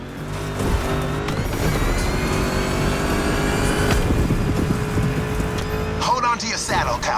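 A Ford Mustang muscle car racing in The Crew Motorfest on a swampy Hawaii track, its engine roaring steadily at high revs with gear shifts and tire noise, loud and close throughout.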